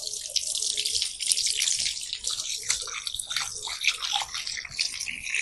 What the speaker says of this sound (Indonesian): kita membasuh kedua tangan sampai siku